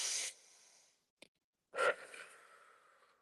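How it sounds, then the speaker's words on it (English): A deep breath taken close to the microphone, a strong airy inhale, a faint click in a pause, then a long, softer exhale that trails off. "I'm going to start by taking a deep breath"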